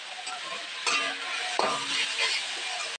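Bathua greens fry in a pan while being stirred, a dense, even sizzle with a couple of metallic clinks from the spatula, close and steady, and no talking.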